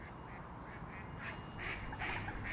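A startled duck on the water after a mink swam beneath it, quacking several times in a faint, somewhat distant series over a steady outdoor background hiss.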